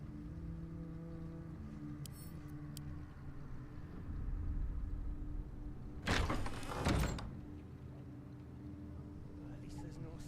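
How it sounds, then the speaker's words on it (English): A door in Baldur's Gate 3 swings open by magic, unseen hand, a short loud creak and scrape over about a second, standing out above a steady low game ambience hum. "And I will risk the Mage Hand opening the door"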